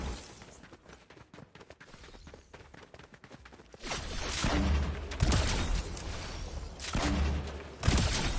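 Gunfire in Fortnite: bursts of rapid shots and heavy thumps that start faint and sparse, then turn loud and dense for the last half, with brief pauses between volleys.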